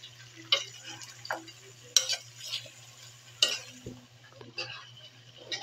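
A spoon stirs chicken feet in a pan, making several scraping, clattering strokes at uneven intervals over a faint steady hum, heard close with no talking.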